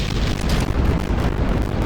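Rocket ignition and liftoff in a space game, heard as a dense, loud roaring rumble that runs steadily and unbroken through the whole stretch.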